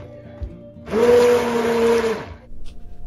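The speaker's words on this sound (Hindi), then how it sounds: "अब मैं ब्लेंडर की सहायता से इसको पीस लूंगा।" An electric blender grinds onion-tomato gravy for dhaba-style paneer butter masala, a loud steady whir that starts abruptly, runs about a second and a half, then cuts off with faint kitchen noise around it.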